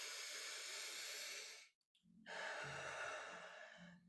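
Two long, deep breaths are blown into cupped hands. Each is a close, steady airy hiss lasting over a second, with a short pause between them.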